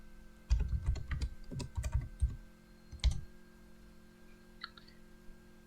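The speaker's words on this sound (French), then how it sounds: "On va taper ici." Someone types on a computer keyboard in quick bursts of close clicking keystrokes, stops briefly, then adds a few more taps and a faint click near the end.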